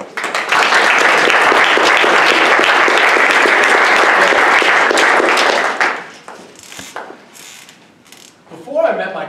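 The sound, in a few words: audience applause welcoming the speaker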